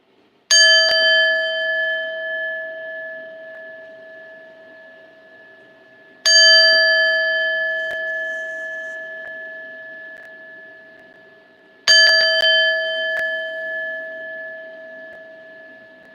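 Three separate chime strikes, each ringing out clear and bright then slowly decaying over several seconds, spaced about six seconds apart in a quiet room with no talking.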